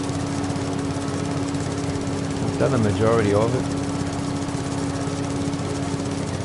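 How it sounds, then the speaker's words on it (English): A mower cutting grass in Farming Simulator 22 drones steadily with a constant engine hum while someone talks over it briefly in the middle. "Just going to finish mowing this little bit here."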